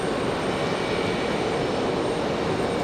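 Airliner taxiing back to the gate at Raleigh-Durham International Airport, a loud continuous jet engine whine and rush, steady and close with no breaks, no talking.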